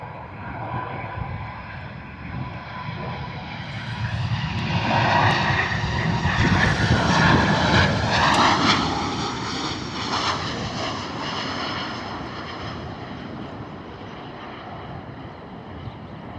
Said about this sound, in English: Nice landing from Ryanair.